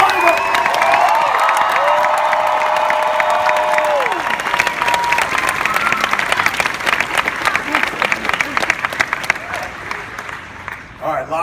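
A large Hall H audience at San Diego Comic-Con 2017 bursts into loud, sustained applause and cheering for the actor who plays Dirk Gently, with whoops over dense clapping that fades slightly toward the end.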